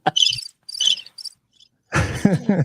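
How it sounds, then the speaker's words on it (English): A cricket sound effect plays in short, bright chirping bursts, loud and close, then a voice starts talking right after it. "The crickets out there."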